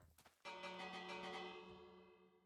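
A village bell rung in a video game raid gives a single clear, sustained strike that rings on and slowly fades, quiet and alone.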